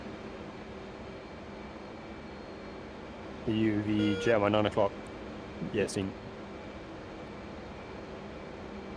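Steady jet engine drone from an aircraft taxiing in a flight simulator, with radio-style voices talking briefly over the constant hum.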